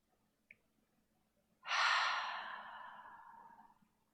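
A single slow yoga breath, a long, close, airy exhale that starts strong and fades gradually over about two seconds, following a tiny click in otherwise quiet surroundings.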